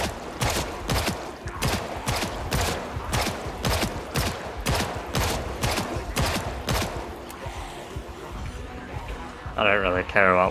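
Gunfire in the zombie survival game Project Zomboid: a steady run of a dozen or more loud, evenly spaced shots about half a second apart, thinning out toward the end before a brief burst of other game noise.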